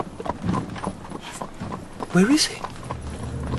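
A horse-drawn cab passes with steady clip-clop of hooves, close and clear, a brief whinny partway through, while someone speaks over it.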